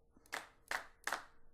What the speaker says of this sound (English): And as per the class, D#1 should be the clap.